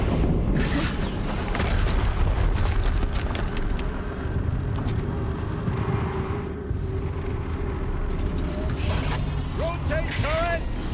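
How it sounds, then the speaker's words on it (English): Explosion in the video game Horizon Zero Dawn near a mountain installation, a dense, loud rumbling boom with heavy low-end roar sustained throughout, mixed with mechanical game effects and tonal sweeps at the end. "Another explosion."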